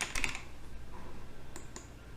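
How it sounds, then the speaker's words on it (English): Keys clatter on a computer keyboard as a polyline name is typed into layout software, a short burst of quick close clicks at the start followed by a few sparse taps. "So I will type in the name of my polyline."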